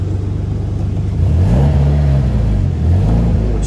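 A car with a manual clutch engages first gear and pulls forward, its mid-pitched engine revving up in two steady surges, close and loud with no talking.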